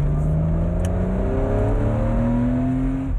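A Porsche sports car engine accelerating while driving, loud and close, with rising revs climbing smoothly through the gear and holding a strong continuous roar to the end.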